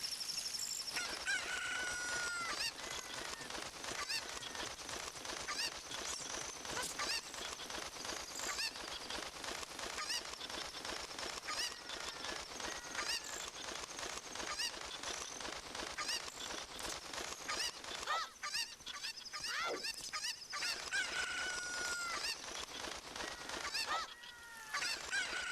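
Chickens in the Ocarina of Time video game, repeated honking clucks and squawks over continuous game sound, with no one talking.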